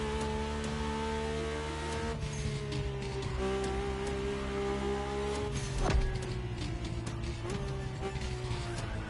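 In The Crew Motorfest, a Mercedes-AMG One's engine drones continuously at high revs, its pitch climbing and dipping with gear shifts, and a brief louder bump partway through.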